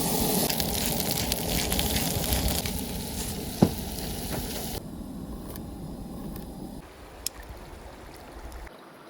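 Steak sizzling in a pan over a fire at a primitive campsite, a loud, steady crackle for about five seconds that then quiets to a softer hiss, with a couple of sharp clinks.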